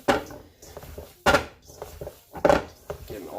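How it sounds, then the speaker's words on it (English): Hands mixing two kinds of ground meat for cheeseburger patties in a kitchen, giving soft squishing and slapping pulses that come and go in several bursts, close and fairly quiet, with occasional light clatters of bowl or utensils. "We're going to mix these two kind of meats together"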